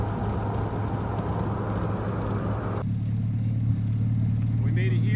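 A Mazda Miata nicknamed Skeletor idles at a race track, warming up with a steady low engine drone heard close and continuous, with wind noise early on and people talking over it.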